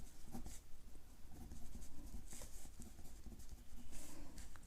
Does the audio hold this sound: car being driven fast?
no